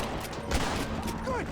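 Gunfire in Red Dead Redemption, a scatter of sharp shots over a busy background of game sounds, with a voice speaking briefly.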